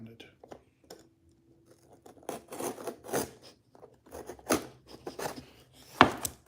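Tape is peeled and torn off an old Timex Ironman watch package in short, close, crackling rips and rustles, with sharper tearing bursts toward the end.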